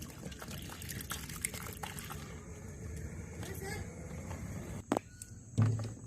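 Liquid fungicide solution sloshes and splashes as a mango scion is dipped into it, low watery churning with a couple of sharper splashes near the end, heard close.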